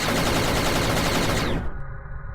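Loud, dense crackling burst of an X-Wing explosion effect built in Blender and Godot, a rapid rattling roar like gunfire that cuts off abruptly and leaves a faint hum.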